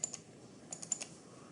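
A computer mouse double-clicks: one quick pair of faint, crisp clicks comes at the start, then a cluster of several close clicks follows a moment later against a quiet background.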